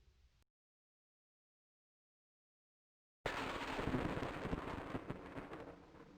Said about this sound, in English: Lightning!